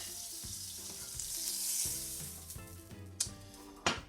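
Butter sizzles and fries steadily in a crepe pan, a continuous crackling hiss that swells and fades with a few sharper pops and clicks near the end, close up with no talking.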